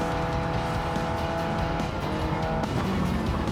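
A Mitsubishi Lancer Evolution 4G-series engine in Gran Turismo 7 drones steadily at sustained revs, with tire squeal and a faint pitch shift near the end, loud and continuous with no talking.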